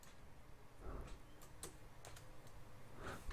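Keys clicking irregularly on a computer keyboard while a Redmi Note 5 search query is entered in a MongoDB tool, faint and close with scattered taps and no talk.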